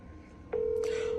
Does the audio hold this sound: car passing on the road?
no